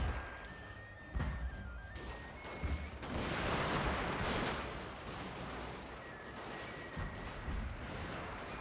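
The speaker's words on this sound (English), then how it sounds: "Kneel, fire!" A musket volley from kneeling troops in the video game Shogun II, a dense rolling crackle of gunfire swelling into a loud burst and then fading into lingering distant pops over battle ambience.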